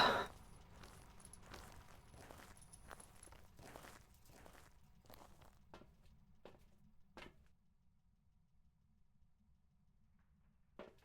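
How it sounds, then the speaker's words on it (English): Footsteps stomping in the ghost-hunting game Phasmophobia, a quick run of dull thuds over the first few seconds, then sparser, fainter steps fading into near silence with a last isolated tap. "I think I would like to stomp my feet."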